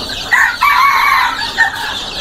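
Jungle fowl at a large Thanh Hoa breeding farm, a loud close rooster crow with a wavering drawn-out call, followed by short clucks and a further brief crow.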